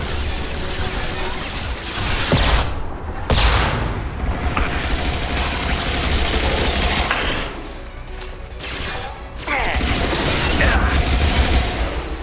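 Sustained gunfire in Mass Effect 2 during a turret-hacking firefight: a dense, continuous clatter of shots and mechanical impacts with heavy booms, loud throughout with brief lulls, and faint voices underneath.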